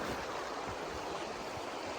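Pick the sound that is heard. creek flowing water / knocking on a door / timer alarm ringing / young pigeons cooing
creek flowing water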